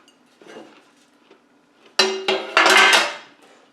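An old metal toaster oven tray clattering in a kitchen, a sharp clank followed by a few loud scraping rattles, close and alone with no talk.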